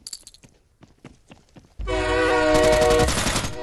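In the SF 2.0 battle royale mobile game, a train thunders in with a loud sustained horn blast and a heavy rumble that cuts in abruptly and holds to the end, after a few quieter clicks and thumps.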